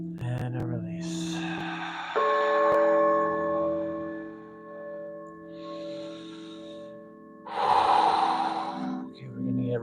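Guided deep breathing: loud, close breaths drawn in and pushed out through the mouth, two long rushes of air separated by a quieter stretch, with a sustained bell-like tone ringing underneath and a guiding voice talking between breaths.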